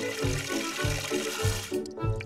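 Water running from a tap fills a pool in a cartoon, a steady rushing stream with a soft rhythmic pulse, close and continuous until it cuts off near the end.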